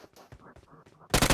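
Short burst of automatic gunfire in the battle royale game BGMI, loud and sudden at the end after a stretch of quieter game sounds.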